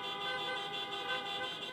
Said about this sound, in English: Riding bumper to bumper while honking horns, cab drivers make their way through downtown Chicago